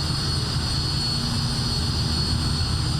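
Steady jet engine roar of an F-86 Sabre in a flight simulator game, a constant broadband drone with a whining tone on top, loud and unbroken, with no voices.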